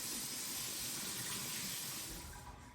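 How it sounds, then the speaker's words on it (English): Water pours steadily into a mixing bowl for bannock dough, a continuous close splashing hiss that tapers off near the end. "I'm going to put 2 cups of water in here"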